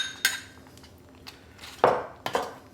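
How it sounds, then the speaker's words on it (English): A spoon scrapes and knocks against a skillet as chorizo is stirred into refried beans, giving a few sharp metallic clanks spaced irregularly over a low background. "get that stirred in to your beans"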